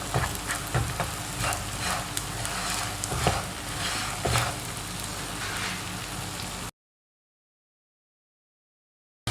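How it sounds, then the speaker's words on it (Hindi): A spoon scrapes and stirs jaggery melting in a little oil over a low flame, with soft sizzling and crackle for several seconds before the sound cuts to silence. "थोड़ा सा ऑयल हम डाल देंगे इसके अंदर और हल्की सी आंच पे इसको चम्मच चलाना शुरू कर देंगे ताकि ये मेल्ट हो जाए"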